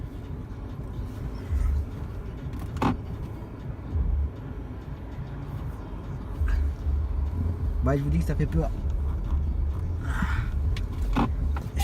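A car rolls slowly with a low engine rumble and intermittent bumps and thuds from the road, while someone talks throughout.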